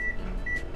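A microwave oven runs while cooking a cookie, a low steady hum with short high beeps or electronic tones at the start and again partway through.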